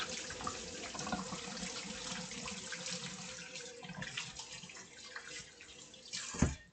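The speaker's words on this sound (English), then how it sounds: "Just going to wash the hands." Hands washed under a running kitchen tap in a cooking setting, a steady close hiss of water splashing with small changes as the hands move, ending in a short sharp knock.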